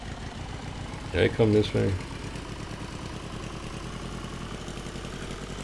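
An old jalopy car engine idling and labouring, a steady low rumble throughout with a person briefly speaking over it.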